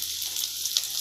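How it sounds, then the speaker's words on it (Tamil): Cinnamon, star anise and grated coconut sizzle in hot oil in a pan for a Tamil green field bean curry, a steady bright frying hiss with small crackles as the spices are stirred. "இதெல்லாம் சேர்த்து நல்லா வதக்கி விட்டுக்கோங்க"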